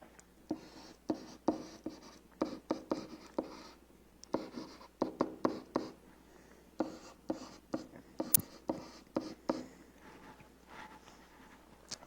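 Pen writing by hand on paper, a run of short scratchy strokes in bursts with brief pauses, close and fairly quiet, no talking.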